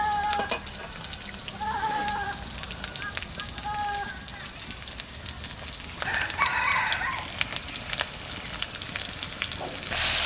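Ginger paste, chilli, pepper, cumin and coriander frying in oil in a home kitchen for mutton curry, a steady crackling sizzle throughout with a few brief rooster-like crows and faint voices in the background.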